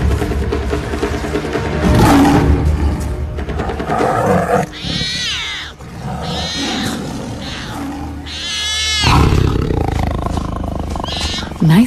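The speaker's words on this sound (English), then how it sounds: "Nice roar, Ravi." A tiger roars in a forest in a wildlife setting. Deep, loud growling roars rumble close by over about twelve seconds, mixed with higher animal cries and other calls in a busy, layered soundscape.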